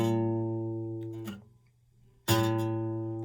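An acoustic guitar string is plucked at the fifth fret for tuning. A sustained, ringing note fades slowly, briefly dies away, then returns with a strong fresh pluck that rings on. No one speaks.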